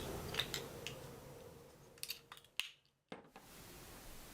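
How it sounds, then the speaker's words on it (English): A spring-loaded rotary stripping tool turns around a coaxial cable being prepared for a SIMFix LP connector, giving a few sharp close clicks and scraping ticks with a brief louder snap, then a quiet gap before faint room noise returns. "Rotate the tool in the direction indicated by the arrow. The spring tension is strong enough to completely cut the cable."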